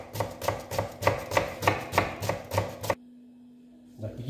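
Half an onion is chopped very finely with a knife on a board, about ten quick, evenly spaced close chops, then the cutting stops and the room goes quiet.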